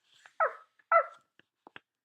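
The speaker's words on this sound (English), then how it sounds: "A faint bark came from the distance." A faint, distant dog barks twice in quick succession, followed by a few softer, brief yips and clicks in an otherwise quiet outdoor setting.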